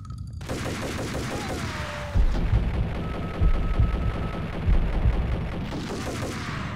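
Rapid automatic gunfire from a gun in the video game Max Payne, loud sustained bursts with heavy low booms and a brief tonal whine, running almost continuously.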